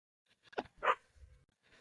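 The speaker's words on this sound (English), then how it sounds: "get the dog out of here. Just barking nonstop" An agitated dog shut in a bedroom gives a few sharp barks and yelps indoors, in quick bursts with short pauses between them, fairly close and moderately loud.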